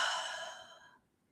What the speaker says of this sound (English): and then you breathe out through your mouth